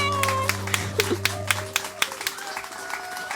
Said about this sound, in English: Thank you for the claps